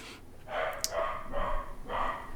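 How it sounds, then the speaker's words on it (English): A dog barks in the background, a few short barks spaced out in a loose rhythm, moderately loud and heard alone without talk. "My dog starts barking in the background."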